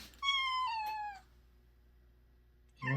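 A black cat lets out one long, clear, close meow that fades away, followed by near silence and then a short low sound at the very end.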